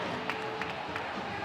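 Crowd noise at an indoor track race, a distant murmur of cheering and a few claps, faint and steady for a moment.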